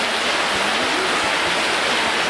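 Rainwater pours steadily off a small roof cover in Guatemala, a dense continuous hiss of falling water at close range, loud and unbroken, with faint low thuds beneath and no voices.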